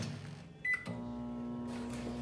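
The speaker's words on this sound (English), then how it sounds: "It goes in the microwave" A microwave oven hums steadily as it cooks a $1 bag of frozen green beans, with a brief higher tone near the start before the even drone settles in.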